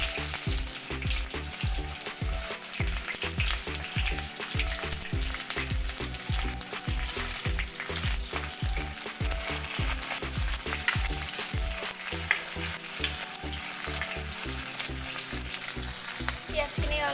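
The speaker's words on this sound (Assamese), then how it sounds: "পিয়াজখিনি অলপ ৰঙা হ'লেকে ভাজিব।" Onions fry in a pan for Assamese fish curry, a steady crackling sizzle with rhythmic scraping thuds as they are stirred, close and continuous throughout, with no talking.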